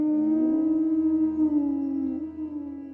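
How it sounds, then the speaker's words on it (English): A beast's drawn-out howl of anguish in a dark tale, a loud sustained tonal wail with harmonics wavering and slowly falling over three seconds, heard alone without any talk. "howl of anguish."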